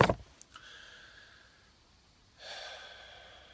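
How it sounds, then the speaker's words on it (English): A deep breath, starting with a sharp close sniff, then a quiet pause and a soft, airy exhale near the end, faint and alone in a quiet room. "take a deep breath"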